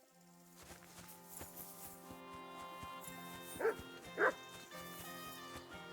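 A dog in Kingdom Come: Deliverance gives two short, sharp barks in the middle distance over a steady musical score and faint footsteps.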